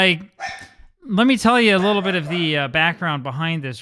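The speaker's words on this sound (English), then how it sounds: "Apologies for my dog that's going nuts because there are two dogs walking by the house." A pet dog barks excitedly at two dogs walking past the house, its yaps faint and partly buried under someone talking steadily close by.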